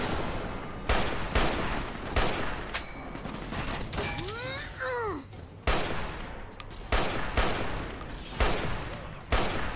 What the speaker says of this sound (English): I like that you can fire really quickly with this weapon.